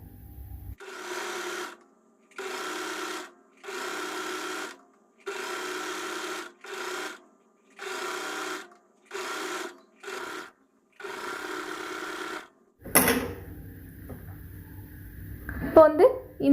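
A sewing machine runs picot edging around a round blouse piece, stitching in roughly ten steady bursts separated by short pauses, followed by handling and rustling noises.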